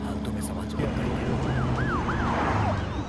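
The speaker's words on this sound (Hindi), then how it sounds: "पुलिस की गाड़ी आ रही है, नीचे छुप जाओ" A police car siren wails at a moderate distance, its rising and falling tone sweeping in repeated cycles over low engine and road rumble, growing more prominent as it approaches.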